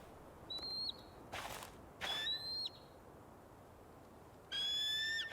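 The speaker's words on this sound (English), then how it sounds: "Is that a bald eagle?" Bald eagle calls in the video game Tell Me Why, thin high-pitched whistling cries in short bursts with a few soft flutters between them, set against a quiet outdoor backdrop.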